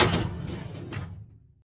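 A heavy door swings open in a puzzle setting, a loud rumbling sweep with low resonant body and airy whooshes that fades out after about a second and a half, alone without any voices.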